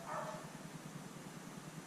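A neighbourhood dog barks once or twice in the distance, faint and brief at the start, then fades into quiet room tone with no talking.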